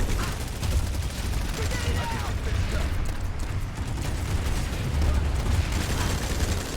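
Sustained gunfire during a fight in the sci-fi shooter Planetside 2, dense overlapping shots and mechanical clatter running continuously at steady loudness with low booming thumps underneath, and a voice talking over it.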